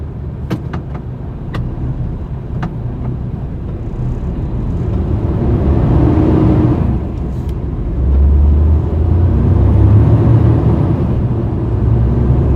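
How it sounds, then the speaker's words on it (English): Steady traffic noise of cars rolling past on a road, heard from inside a truck cab, a continuous broad rumble that swells around the middle and stays loud, with a few faint clicks early on. "There's quite a lot of cars on the other side as well."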